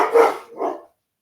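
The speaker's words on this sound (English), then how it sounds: "There goes the dogs already." Two loud, close dog barks in quick succession, each a short gruff bow-wow, then silence.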